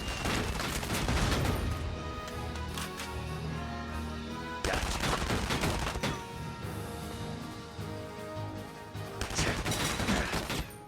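Rapid bursts of gunfire and heavy explosive blasts in the video game Valkyria Chronicles 4, dense and continuous, with booming impacts around the midpoint and again near the end.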